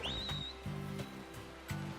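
A short rising whistle in Pokemon Violet, the player's call sounding briefly at the start, followed by low, pulsing game background sound.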